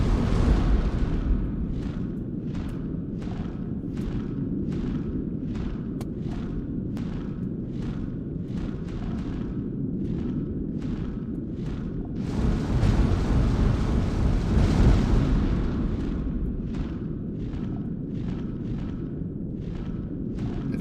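Repeated fire attacks in the 1999 PC game Drakan: Order of the Flame produce a steady roaring whoosh with regular sharp bursts at a quick rhythm, swelling louder for a few seconds midway, continuous and without speech.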